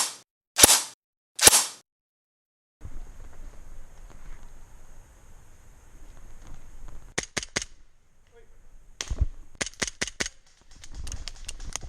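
A Cybergun/KWC Colt 1911A1 100th Anniversary CO2 blowback airsoft pistol fires two sharp cracks close up, then after a quiet pause lets off a quick string of snappy shots in uneven bursts.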